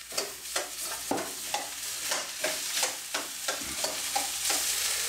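Cooked rice and egg sizzle loudly in hot oil in a pan while being stirred, a steady frying hiss broken by rhythmic scraping strokes about twice a second, with no talking.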